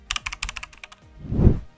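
Computer keyboard keys are pressed in a quick run of crisp clicks, close and distinct, followed by a soft low thud.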